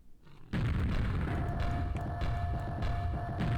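A grenade launcher in the game Quake, modified to fire a random monster or player head, goes off after a brief quiet start, and a booming, throbbing blast carries on for several seconds.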